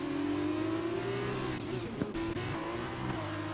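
A race car spinning out on track in a racing game during a Russian Grand Prix league round, engine droning steadily with a pitch that sags and wavers as the car loses grip, plus a brief thud midway.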